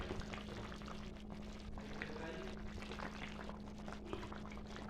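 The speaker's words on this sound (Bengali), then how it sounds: "আমি নামানোর আগে বন্ধুরা একটু সরষের তেল দিয়ে দিলাম" Mustard oil goes into a bubbling fish curry, and a steady, faint simmer and sizzle continues evenly throughout with no talking.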